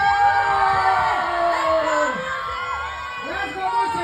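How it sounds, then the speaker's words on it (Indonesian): A live audience at a stage show cheers and whoops loudly and continuously, with many overlapping shouting voices filling the space. "Tepuk tangannya dan teriakan lagi."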